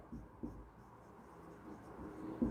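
Quiet scratchy strokes of chalk or marker writing on a classroom board, in short bursts with pauses, soft and close.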